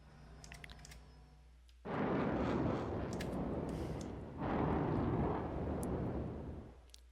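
A spaceship's main gun fires in Star Citizen, two long, loud roaring bursts of broadband blast noise following a quieter hum, each sustained for a couple of seconds.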